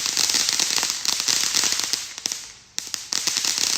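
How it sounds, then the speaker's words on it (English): Fireworks and firecrackers popping at a Juneteenth celebration, a dense fast crackle of many small bangs with a steady hiss behind, loud and continuous with a brief lull near the end. "we were popping our fireworks for Juneteenth"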